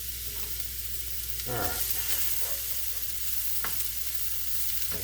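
Vegetables stir-frying in a pan on a home stove, a steady close sizzle with scraping and stirring bursts as they're tossed, and one brief word spoken over the cooking.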